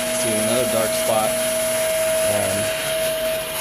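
A commercial carpet-cleaning vacuum runs steadily with a high tonal whine and constant airflow hiss, close by, while someone speaks briefly over it.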